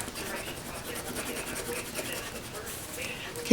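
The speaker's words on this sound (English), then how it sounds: "using the blue to erase that" A blue eraser rubbed steadily back and forth across ink on a Franklin Covey planner page, a close, continuous scratchy scrubbing with an even rhythm and a slightly louder scrape at the very end.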